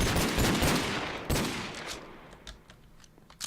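A heavy gunner enemy fires bullets in the video game Creeper Bunker: a loud burst of rapid automatic fire that trails off, followed by a few scattered, fainter shots.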